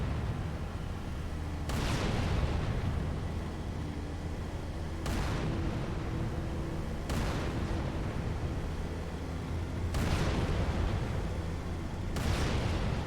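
Heavy booms from a tank's main gun in the Halo 3 video game, five shots spaced a few seconds apart, each a loud blast with a long rumbling tail over steady game background noise.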